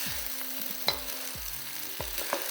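Kimchi fried rice is stir-fried with two wooden spoons, giving soft scraping thuds against the pan every half second or so over a continuous low sizzle, with a few brighter clacks.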